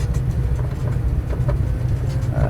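The engine of a self-launching AS33 glider in Microsoft Flight Simulator, revving up on a grass strip in strong wind, a steady loud low drone.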